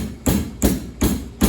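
A small hand stone pounds carob pods on a flat stone, striking four times in an even rhythm of dull, close thuds with short gaps between.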